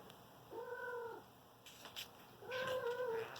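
Two cats squabble with drawn-out, wavering meows and yowls, a rising caterwaul, then a pause with sharp hissing spits before another long, strained yowl; close and fairly quiet indoors.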